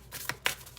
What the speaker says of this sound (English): We're going to shuffle for y'all.